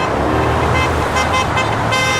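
Steady roar of roadside traffic at a protest by an overpass, with car horns tooting faintly through the dense, continuous noise.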